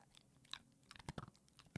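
A dog crunching a treat, with short crisp bites and chewing bursts close by, quiet and irregular over a couple of seconds, with no talking.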